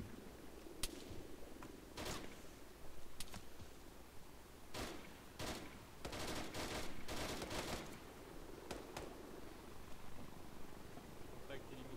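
Bursts of small-arms gunfire in the military simulation video game ArmA 3, several sharp volleys and rapid strings of shots scattered across the scene at mid distance, with voices talking over the firing.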